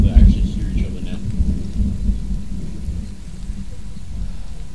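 Rain and thunder in the military shooter Squad: a loud rumble swells at the start, then a steady wash of rainfall continues with low rolling thunder underneath, fading somewhat toward the end.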